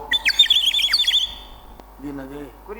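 A sparrow chirps in quick, bright bursts near the microphone, followed by a pause and then a person's voice.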